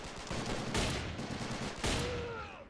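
Loud rifle shots in a WW2 fort-siege video game, two sharp blasts about a second apart against a dense backdrop of ongoing battle noise and scattered gunfire.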